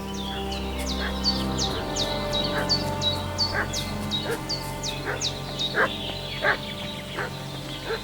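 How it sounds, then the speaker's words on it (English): A dog barks repeatedly in Kingdom Come Deliverance 2, a steady run of sharp barks at close to middle distance over a low droning ambience with some bird-like calls, no talking. "What's that dog making such a fuss about?"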